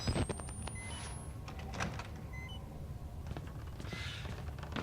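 A door grinds and clunks open in the horror game Outlast, with a few thuds and scraping sounds over a low, rumbling ambient drone. No one speaks.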